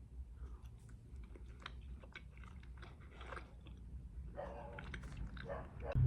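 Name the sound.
chewing a Lifesaver gummy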